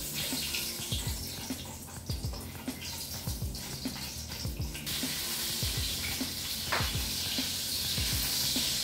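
Annatto seeds sizzle in hot cooking oil with a continuous crackling hiss that grows denser partway through, while low thuds and stirring clatter sound close by.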